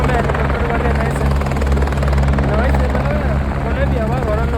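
A helicopter flies at Kedarnath, a loud continuous rotor and engine drone that fills the scene while people talk over it.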